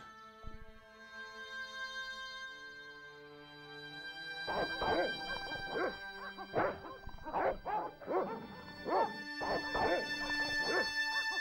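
Dogs barking in the video game Broken Sword Reforged: a burst of repeated yelping barks from several dogs, loud and close, over a sustained game music bed, growing busier toward the end.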